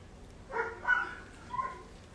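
A neighbourhood dog on a city block in summer gives a short burst of two or three barks at middle distance, fairly soft against quiet background noise.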